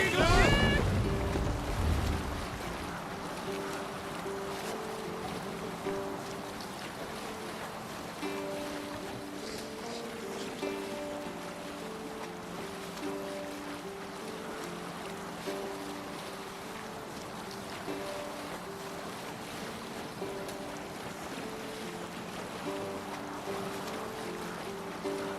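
A ship sails across open water in Assassin's Creed Valhalla, with a brief loud splash at the start giving way to steady wind and wave wash under a faint tonal background.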